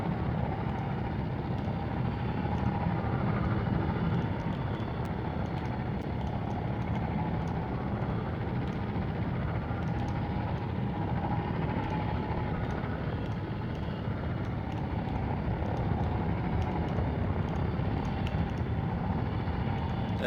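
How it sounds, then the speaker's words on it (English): A LAAT gunship in a video game hovers and slowly sets down, its engines a steady, loud, broadband roar that holds throughout without a break. "that's landing a LAAT"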